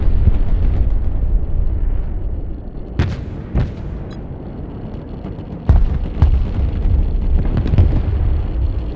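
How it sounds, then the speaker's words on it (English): Nuclear strike detonations in the Broken Arrow war game, a loud continuous low rumbling roar punctuated by several sharp blasts and impacts, close and heavy throughout. "Another nuke."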